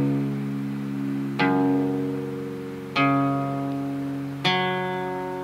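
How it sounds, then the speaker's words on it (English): Acoustic guitar in an alternate tuning with the low E dropped to D flat; three open strings are plucked one at a time at steady intervals, each note ringing out and decaying alone. "All the strings open, each string individually."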